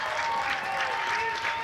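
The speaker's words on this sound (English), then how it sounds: "As the crowd starts cheering, the cheerleaders start clapping, the band starts clapping." A stadium crowd at a high school football game, State College against PR at Hempfield Stadium, claps and cheers in a steady, dense roar of applause that holds throughout, with a faint voice beneath it.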